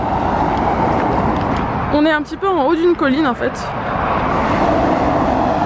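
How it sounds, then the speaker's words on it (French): Steady broadband road noise from cars passing outside a hostel in a hilltop village in Australia fills the background throughout, with someone talking in French over it for a few seconds. "j'espère que vous m'entendrez bien avec le bruit des voitures"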